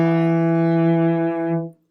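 A violin sounds first finger E on the D string as a single sustained bowed note, steady and clear, played alone and fading out near the end.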